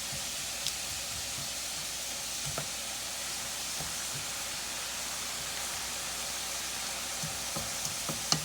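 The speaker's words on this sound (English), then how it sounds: "I'm going to let this cook down for a little bit longer." Bell peppers cooking down in a frying pan for egg roll filling, a continuous broad hiss of sizzling with a few soft stirring ticks, steady and unbroken with no voices.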